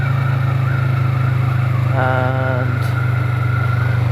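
Kawasaki Vulcan motorcycle engine on an evening ride: a steady, low, pulsing engine drone runs throughout, close and constant, with someone briefly talking over it.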